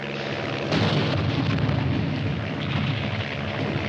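Artillery explosions in a 1951 war film battle scene blend into a dense, continuous roar of rumbling blasts that grows louder after the first moment and stays heavy throughout, with no speech.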